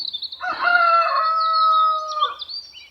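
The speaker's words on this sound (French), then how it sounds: "Ah, petit coq qui chante." A small rooster crows once near a village on the Camino Francés between Vega de Valcarce and Pieiro, a clear, drawn-out cock-a-doodle-doo at moderate distance, with faint bird chirps around it and no talking.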